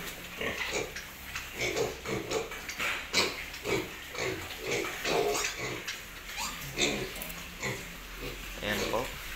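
Young piglets being fed a controlled handful of feed each grunt and squeal in a dense, rhythmic chorus close by, with a person talking intermittently over the noise.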